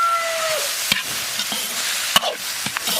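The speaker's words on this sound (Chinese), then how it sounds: "炒起以后，下入鹅蛋、" Goose eggs and garlic sprouts sizzle in a hot pan under a constant frying hiss, with occasional sharp scrapes and clacks from stirring, close and without talk.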